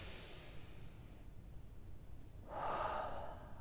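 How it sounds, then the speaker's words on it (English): A single slow, deep inhalation through the nose drawn in close to the microphone, starting faint and swelling into a strong, airy rush near the end, with no talking. "we're going to take a deep breath in"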